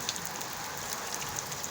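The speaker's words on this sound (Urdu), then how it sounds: "بہت ہی تیز بارش ہو رہی ہے۔" Heavy rain pours onto a rooftop during a downpour in a city, a steady dense hiss with scattered sharper drip ticks, continuous and even throughout.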